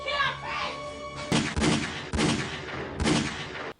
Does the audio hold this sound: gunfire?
yes